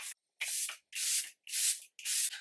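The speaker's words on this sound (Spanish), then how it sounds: "le voy a dar un poquito al spray fijador" Charlotte Tilbury setting spray spritzed in five short, close hissing bursts with brief pauses between them.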